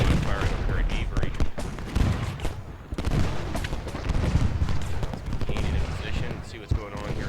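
Dense, continuous musket volleys and crackling gunfire from a Civil War battle at Gettysburg in the strategy game Ultimate General Gettysburg, with someone talking over the shots throughout.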